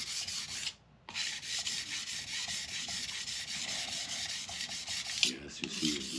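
A steel tool being ground on a CBN sharpening plate without pressing down makes a steady, close rasping scrape that runs in quick repeated strokes, with one brief pause early on.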